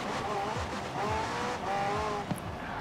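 A car drifts sideways in Forza Horizon 4, its engine droning steadily while tires squeal and shift pitch in repeated sliding sweeps, loud and close, with a short sharp click near the end.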